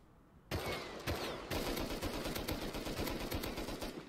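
Rapid gunfire in the survival game Rust, a loud, dense volley of shots that starts abruptly, pauses briefly, then continues in fast repeated bursts with no speech.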